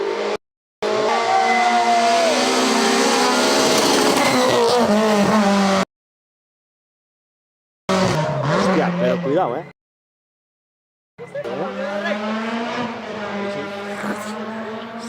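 Rally car on a stage of the 2023 Rally A Coruña, a loud close engine rising and falling in pitch as it passes, in several bursts broken by silent gaps, with excited spectators talking over it.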